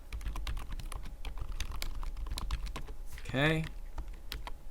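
Rapid typing on a computer keyboard, a dense run of close clicky keystrokes throughout, with a brief spoken word partway through.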